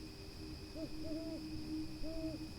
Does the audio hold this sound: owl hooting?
yes